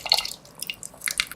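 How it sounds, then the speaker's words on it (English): Juice squeezed from soaked tamarind pulp dripping into cooked lentils for a spinach lentil curry, a brief patter of close, light drips and trickles. "Take the soaked tamarind, squeeze the pulp out and add the juice or the extract to the cooked lentil."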